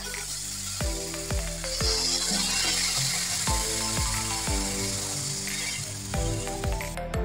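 Tomato and potato fry with bottle gourd in a pan, a bright hiss carrying on throughout while repeated clanks from stirring ring out near and clear, no speech.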